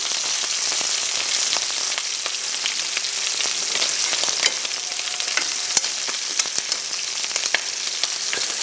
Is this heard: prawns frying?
yes